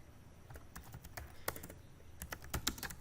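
Typing on a computer keyboard while filling in a visa form online, irregular close clicks and bursts of keystrokes with short pauses, no talking.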